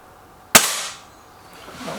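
A single sharp air rifle shot, from a BSA Lightning SE or Gamo Whisper X, cracks close and loud, then fades into a short ringing decay before quiet.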